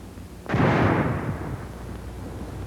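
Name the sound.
frangible grenade with FS smoke filler going off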